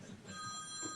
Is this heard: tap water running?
no